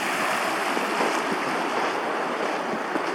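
A river rushes loudly and steadily at a trail crossing on Iceland's Laugavegur Trail, a dense unbroken roar of flowing water close by, with some wind buffeting the microphone.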